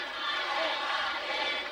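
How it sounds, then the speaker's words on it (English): A big arena crowd at a 1986 WWF wrestling event in Houston's Summit, a dense, roaring wash of many voices chanting together, steady and somewhat distant throughout. "Chant going out by this crowd here in the Summit"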